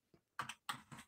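Computer keyboard typing, a few soft clustered keystroke bursts close to the microphone, quiet and alone.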